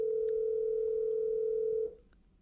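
A phone line tone, a single steady electronic beep held for about two seconds before cutting off, clear and alone.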